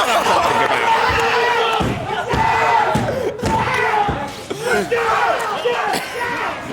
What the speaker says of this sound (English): the pop-off from the crowd